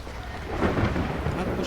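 Heavy rain and rolling thunder in the horror game Phasmophobia, a dense steady roar of downpour with a low rumble swelling partway through, loud and continuous with no voices.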